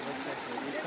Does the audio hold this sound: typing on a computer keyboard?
no